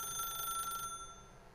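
An old-fashioned telephone bell rings in The Stanley Parable, a bright trilling burst that stops abruptly partway through, leaving a faint fading tone and quiet room ambience.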